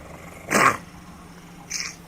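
Two short, raspy growls from a pet, the first louder and the second fainter, heard up close in a quiet room.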